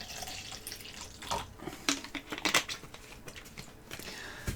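Water poured from a bottle into a container to immerse small parts, with irregular splashing and trickling bursts close by and no talking.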